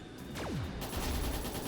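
Gunfire crackles in the video game Trails in the Sky the 3rd, a short burst of loud shots with a falling swoosh, alone and without talking.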